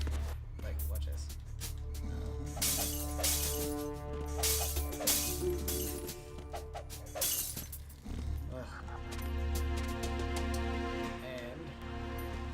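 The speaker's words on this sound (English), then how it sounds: "every single one of those bottles and glasses is destructible" Bottles and glasses shattering one after another in Metal Gear Solid 2, sharp breaking crashes over a steady music bed, with someone talking throughout.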